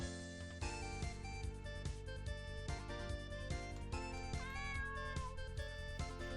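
A cat meowing in an RPG Maker video game, a few short mews heard faintly over continuous looping game music with a steady beat.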